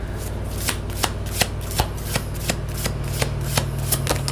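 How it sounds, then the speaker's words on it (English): Tarot cards being shuffled by hand in quick, crisp riffling bursts, roughly a dozen sharp snaps in a steady rhythm, close up and with no talking. "let me pull the other cards"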